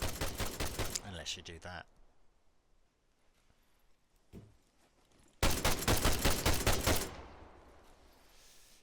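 Rapid automatic gunfire in ARMA 3 is aimed at a tower's walls, with a dense burst of shots, a pause where someone speaks, then a second loud burst that trails off.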